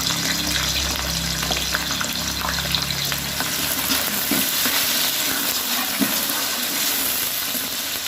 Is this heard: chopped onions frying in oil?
yes